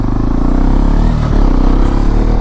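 Hero Xpulse 210 motorcycle fitted with a new rally seat, its engine running steadily and loudly up close, a continuous low throbbing drone with slight revving and clatter throughout.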